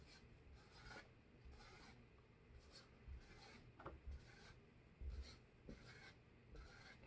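Pen or marker strokes on a board as a phospholipid bilayer diagram is drawn, a series of short scratchy bursts in an uneven rhythm, faint and close in a quiet room.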